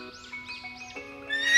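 A cartoon horse gives a short, high, wavering whinny in a few rising and falling bursts, with thin tonal music under it that swells toward the end; no one speaks.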